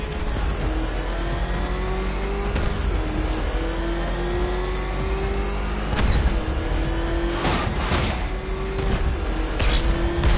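The Batmobile engine in the video game Batman: Arkham Knight revs continuously with a loud, steady roar and rising pitch, punctuated by several sharp bursts and surges near the end, with no voices.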